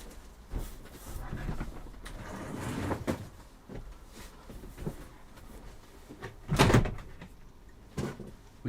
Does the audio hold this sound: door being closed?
yes